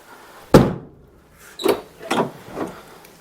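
Door of a 1964 Ford Custom 500 being worked open, a loud creaking clunk followed by a series of squeaky metallic groans from the dry hinge, close and without talk.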